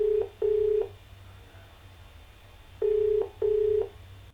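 Telephone call to a TV phone-in show caller: two pairs of short ringback tones, each a double beep, with a quiet pause between the pairs and no speech.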